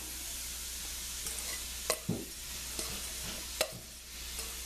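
Vegetables cooking in a pan for risotto, with a faint, steady sizzle broken by a few sharp stirring scrapes and clinks, close by and quiet.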